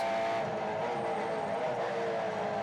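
Onboard a V8 Supercar racing at Hampton Downs, the engine gives a steady, loud, high-revving drone close to the microphone with no break, heard alone without speech.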